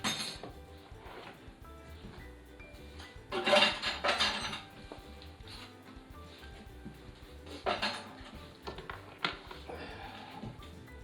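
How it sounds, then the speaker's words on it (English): Clinks and clatter of a crock pot and dishes handled at a kitchen counter during cleanup after cooking kale, with a louder burst of knocking ceramic and metal midway and scattered clinks after. "Crock pot."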